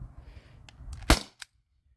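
A modded T4E HDP50 CO2 pistol firing, heard as one sharp, close crack followed by a small tail of clicks, then silence.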